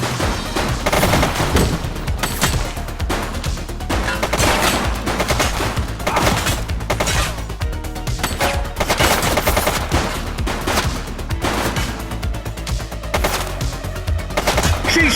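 Sustained heavy gunfire rattles through a police shootout in The Precinct, dense bursts of automatic shots and fusillades running loud and continuous for the whole stretch with no voices over it.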